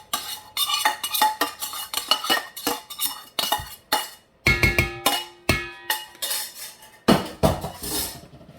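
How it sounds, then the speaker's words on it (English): Cooked pork egg roll filling scraped and dumped from a pan into a bowl, a run of loud clattering metal scrapes and clanks in quick irregular bursts, close up, with no speech. "We're just gonna dump all this in this bowl."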